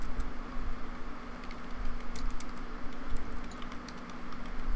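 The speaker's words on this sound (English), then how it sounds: "I'm just Rex, typing. looking this up." Typing on a computer keyboard, a steady patter of quick, light key clicks in uneven bursts, close by under a constant background hum, with no talking.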